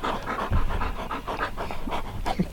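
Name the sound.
dog Bear panting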